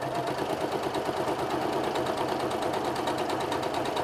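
Close, steady motor drone and rapid needle clatter from a Singer Quantum Stylist 9960 sewing machine as it automatically stitches a buttonhole, running evenly without pause.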